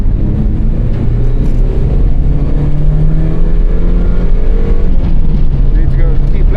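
A Mazda MX-5 project car laps a race track, its engine a steady, loud drone throughout with shifting pitch as it accelerates, a continuous near-field cabin or onboard engine roar with no pauses.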